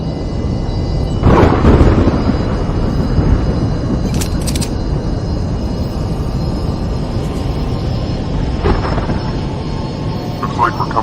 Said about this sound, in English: Looks like we're coming on a pretty bad storm here, everyone.